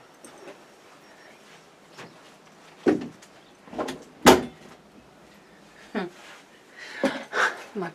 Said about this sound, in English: my puss just decided to try and open the door